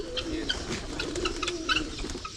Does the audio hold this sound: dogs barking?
no